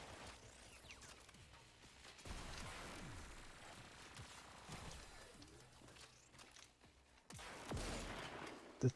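A turret in the Warframe video game fires in quiet bursts of shots, with pauses between volleys, set against faint game ambience and a sharp pop at the end.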